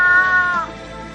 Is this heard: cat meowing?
yes